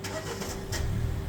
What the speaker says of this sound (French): on a coupé le moteur, on va faire une tentative de démarrage